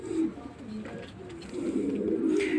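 Pigeons cooing in a pigeon loft among young squabs, soft repeated throaty coos close by, rolling and overlapping through the whole moment with faint room noise.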